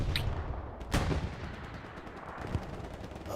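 Artillery shells from the World War II shooter game Hell Let Loose land in a dense, continuous battle din, with several sharp blasts standing out near the start and around one second, and a smaller impact later.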